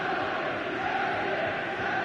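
A large stadium crowd in eFootball roars in a steady, distant wash of cheering before kickoff, with no individual voices standing out.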